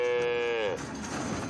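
A cow lows at a Normandy breed cattle show inside a large hall, one long, loud, close moo with a strong harmonic tone that breaks off into a rough, noisy crowd ambience.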